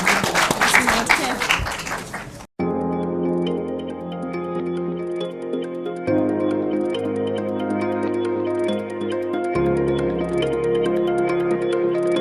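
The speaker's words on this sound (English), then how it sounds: "Let's clap for the contestants." An audience at a junior high school quiz competition applauds the contestants with a dense burst of clapping that lasts about two seconds before cutting off abruptly into music.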